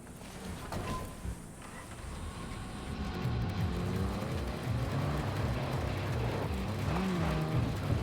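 A car driven in the video game Cyberpunk, its engine holding a steady low rumble that grows louder after a few seconds and rises and falls with throttle, with no talk over it.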